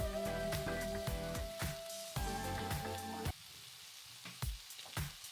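Food crackles and sizzles steadily in hot cooking oil in a pan, loud and close, with sharp clicks and pops breaking through the continuous frying hiss.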